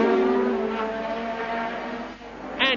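A racing car driven by Nigel Mansell rejoins the circuit after spinning off; a sustained engine drone with a steady pitch holds near and loud, then a brief sharp tonal rise comes at the end, with no voices.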